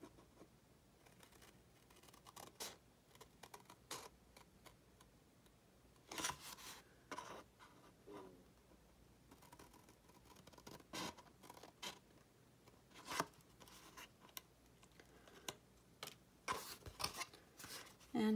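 Scissors or a blade cutting through chipboard for a lay-flat album cover, quiet close-up crunching and scraping strokes that come in bursts, with pauses between cuts and light handling noise.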